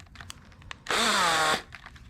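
A power drill fitted with a 1/2-inch bit, used while repairing an FJ40, whines loudly for about half a second, then stops, with faint workshop knocks around it.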